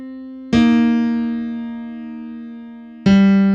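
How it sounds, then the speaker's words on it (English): Blues piano connector riff in the middle register: two loud struck piano chords, the first ringing out long and slowly fading before the second lands, with no voices. "Here comes the connector."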